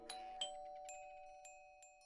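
A doorbell in the video game To Kill a Black Swan rings with a faint two-tone chime, followed by lingering tones and a few soft repeated dings.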